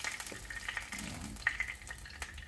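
Turon frying in a pan gives a soft, steady sizzle with faint crackles and a few small pops, heard close and without talk.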